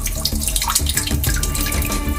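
A mountain spring stream flowing inside a cave in the Kangra region of Himachal, a loud, steady rushing and splashing of water with no pauses.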